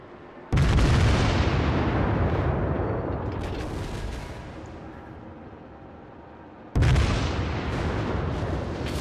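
Battleship gunfire from the Fuso in a naval video game: two heavy, booming salvos roughly six seconds apart, each a loud broadband blast that rumbles and slowly decays, with no voices.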